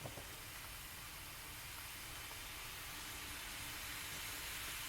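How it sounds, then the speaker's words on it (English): Ground pork cooking in a pan on a stovetop over medium heat gives a steady, even sizzle and hiss that holds at a constant level throughout, with no voices. "now that I've got my ground pork cooking on the stove on a medium heat"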